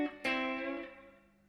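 Electric guitar barred at the 7th position across the G and B strings, struck with one sharp chopping stroke that rings out with a distorted, effects-coloured tone and decays quickly, heard alone.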